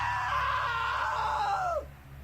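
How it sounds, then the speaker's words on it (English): A long, loud, sustained scream from a character in the video game What Remains of Edith Finch holds steady and then drops off sharply near the end, over a low background hum. "Now that was a great scream."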